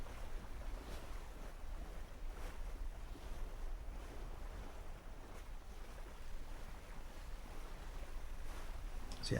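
Small sailboat crossing open sea out of Portsmouth, with steady wash of waves and water against the hull plus gusty wind buffeting the microphone, a continuous close rushing texture with no talk.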